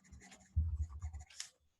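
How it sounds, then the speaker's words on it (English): A name is written down by hand with a pen, making quiet close scratching strokes in a short burst of about a second, with a faint rasp at the end. "I'm going to write it down."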